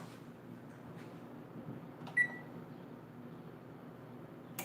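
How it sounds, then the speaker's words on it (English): A kitchen oven is switched off with a single short electronic beep over a low, steady room hum. "I'm about to cut this oven off because I think it's done"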